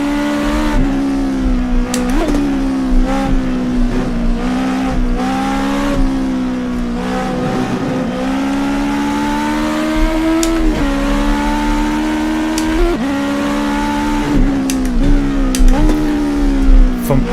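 Vintage GT sports car on street roads near Napoli, heard from close by as the engine revs through a series of downshifts from fifth to second gear, with repeated sharp throttle blips and falling then rising engine pitch.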